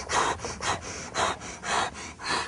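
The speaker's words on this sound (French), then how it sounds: "Dès que ça sera un peu plus dur, j'accélérerai la respiration." Fast, steady panting during Systema push-ups, about five rhythmic breaths in a row, close and breathy with no talk over them.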